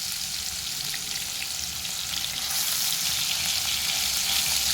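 Chopped tomatoes sautéing over low heat in a pan, a steady close sizzle and crackle of hot oil that stays constant and fills the whole stretch.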